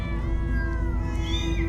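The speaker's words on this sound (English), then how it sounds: "Many cats! So many cats!" Cats meowing in the Minecraft Story Mode video game: a sustained, close meow with a wavering, drawn-out tone, other cat cries layered over it, and a low background hum beneath.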